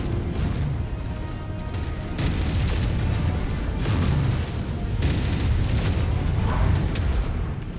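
Heavy mech weapons fire at a Jenner in the MechWarrior 5 video game, a continuous barrage of loud booming blasts and crashing explosions layered close together across the whole stretch, with no talking.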